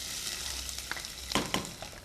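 Whole garam masala spices fry in two tablespoons of hot oil in a handi, a steady close sizzle broken by a few louder scraping stirs, with no voices.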